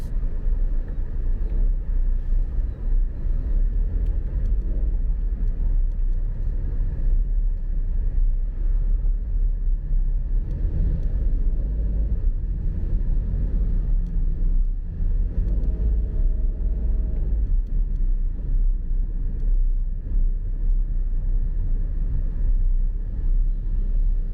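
Steady rumble of congested city street traffic in Penang, cars idling and crawling in a jam near a traffic light, a continuous low engine drone with no distinct passes and no voices.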